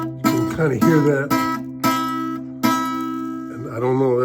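An Ortega acoustic guitar is played as single low strummed notes and chords, each ringing out and decaying, with the E string buzzing against the bridge; about five separate strikes, close and clear.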